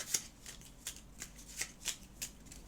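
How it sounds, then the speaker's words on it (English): Gloomhaven cards shuffled back into a modifier deck in short crisp riffles, about seven quick flicks in a row, close and clear with no talking. "we will have to shuffle that back into the modifier deck here"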